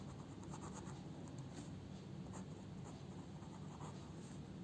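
Pen or chalk scratching steadily across a writing surface during a Class 5 maths lesson on multiples, soft continuous strokes with small bursts, close and alone without talk.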